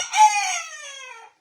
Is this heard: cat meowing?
no